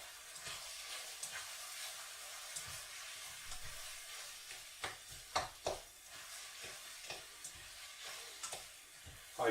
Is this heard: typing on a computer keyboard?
no